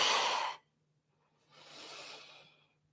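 Two breaths during core exercise: a strong, airy exhale, a short pause, then a softer, longer breath, close and clear with no talking.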